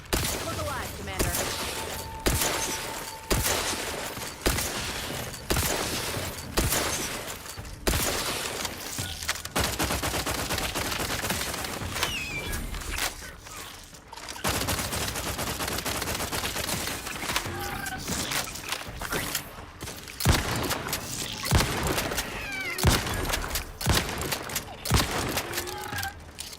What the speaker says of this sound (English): Like me a good pump action shotgun.